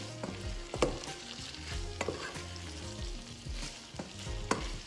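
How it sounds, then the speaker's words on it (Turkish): Steady frying sizzle with repeated scraping strokes of a spoon stirring tomato paste as it fries in a pan, close by, no voices. "Salça kavrulana kadar karıştırıyorum."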